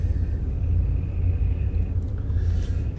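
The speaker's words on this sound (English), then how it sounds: "There's an incoming storm" Deep, steady rumble of an incoming storm in a survival video game, a continuous low roar holding at constant loudness throughout with faint higher hiss above.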